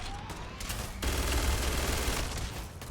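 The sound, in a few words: gunfire in the video game Starfield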